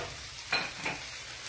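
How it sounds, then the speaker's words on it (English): A spoon stirring turmeric and other seasoning through food frying in a pan, with two short scraping strokes over a steady soft sizzle, heard close and alone. "Give it a good little stir around"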